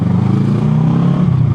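A motorcycle filters through traffic, its engine a close, steady mid-pitched drone with slight revving variation and light clatter, loud and continuous throughout.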